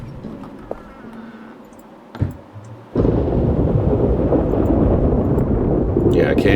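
A thunderstorm in the horror adventure game Darkness Within 2. A sharp thunder crack is followed by a sudden, steady roar of heavy rain and storm that holds loud to the end, with a voice talking over the quieter opening.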